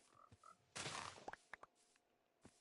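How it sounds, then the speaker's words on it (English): Frogs croaking in the Minecraft video game, a few faint short croaks and soft in-game thumps spread over a quiet scene, with a brief louder rustling burst early on. "Frogs."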